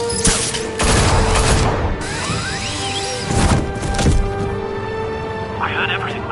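Gunfire in Batman: The Telltale Series video game: sharp cracks and rapid bursts of shots, loud and close, with voices and game effects around them.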